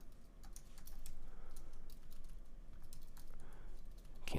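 Steady, rapid typing on a computer keyboard clatters continuously over a broadband background hiss, close and even, with no voices.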